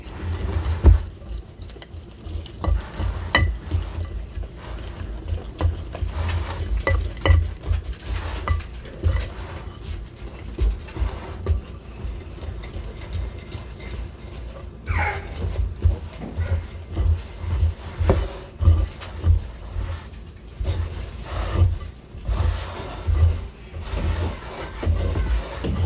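Sourdough ingredients are mixed by hand in a bowl, giving a steady, close run of rubbing, scraping and thudding sounds that rise and fall for nearly half a minute, with no talking.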